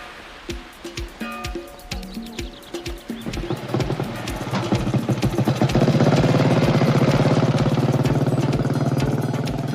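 Horses' hooves clip-clop in a steady rhythm and quicken into a loud, close gallop, joined by a rising engine-like rumble that swells and stays dense to the end.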